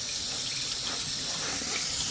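A sheet of peel-off spray coating soaks in running water, a steady loud rushing like a tap pouring into a sink, constant and close with no pauses.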